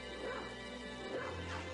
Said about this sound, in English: There's a bark button.